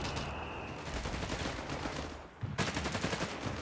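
Machine gun fire in Company of Heroes 3, a dense sustained burst of rapid shots that briefly drops away, then resumes as sharp, loud automatic fire with other battle noise.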